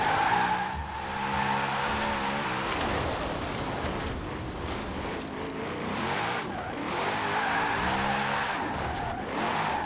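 Car in a video game drifting on Fortune Island, tires skidding and squealing in wavering sweeps over a revving engine, fading mid-way then building into another long slide.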